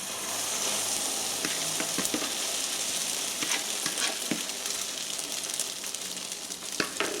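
Potato and onion frying in a lightly oiled pan over plenty of heat for a Spanish omelette, a steady dense sizzle with occasional crackles and scraping stirs, close and continuous, with no talking.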